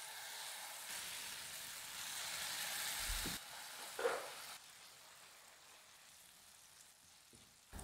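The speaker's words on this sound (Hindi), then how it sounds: "इस तरीके से बड़े वाले चम्मच में बैटर लें और लो फ्लेम करते हुए सेंटर पे डालें।" Semolina and bottle gourd batter poured onto a hot oiled griddle over a low flame, a faint steady sizzle that swells briefly and then settles into a quieter hiss, with a few soft clinks.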